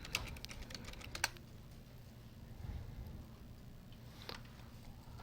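Quick bursts of keystrokes on a computer keyboard open the moment, typing out a search, then give way to a quiet room hum with one more faint tap later on.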